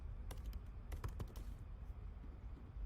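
Quiet clatter of a computer keyboard as a short heading is typed, a brief burst of several sharp key clicks followed by a low background hum.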